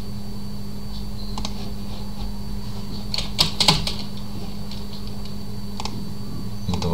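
Computer keyboard keys pressed during a Windows Server 2022 installation, a few sparse sharp clicks spread over a low steady hum, close and fairly quiet with no talking.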